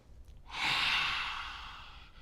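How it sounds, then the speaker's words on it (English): A single long, forceful breathy exhale with the tongue stuck out, done as a yoga lion's breath; it swells quickly, holds as a loud airy rush, then tapers off, with no talking over it. "A lion's breath is where you stick your tongue out and you look at your third eye point as you really let that out"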